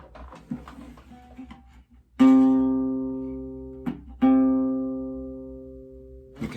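Two long sustained low bowed open C string notes, each starting with a firm attack and slowly fading, separated by a brief pause; some quiet rustling before them.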